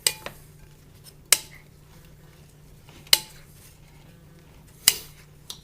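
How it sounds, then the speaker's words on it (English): A wooden spoon knocks and scrapes in a bowl while bread cubes are tossed with olive oil for croutons, giving four sharp clicks spaced about every second and a half over a quiet background, close by and without voices. "get some type of a spoon, wooden spoon or something, and then toss these in the bowl until they're evenly coated"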